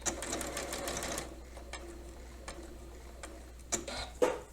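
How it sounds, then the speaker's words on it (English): A domestic sewing machine runs a quick burst of stitches to back stitch bias binding, then falls to scattered ticks and clicks before a short final run, close and fairly quiet. "I'm going to back stitch"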